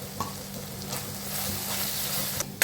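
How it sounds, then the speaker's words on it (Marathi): A tomato masala with garam masala and turmeric sizzles steadily in a pan, with occasional stirring scrapes and a soft clatter near the end. "मसाला चांगला भाजून झाला"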